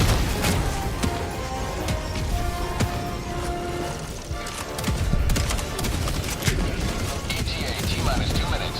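Sentry turret gunfire in a video game rattles in dense, continuous bursts of rapid shots, loud and close, layered with battle noise and explosions throughout.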